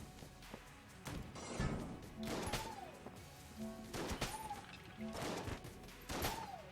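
The Rectangler weapon firing in the video game Enter the Gungeon: repeated bursts of shots in clusters roughly a second apart, each followed by a short rising-and-falling tonal chirp, close and fairly loud.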